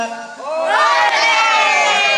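A large group of children and adults shout together on cue during a group game, a loud swelling roar of voices that builds quickly and holds.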